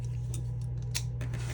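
Scissors snip through paper while a junk journal tag is cut, a few quiet crisp cuts close by, with bursts spaced unevenly against a steady low hum.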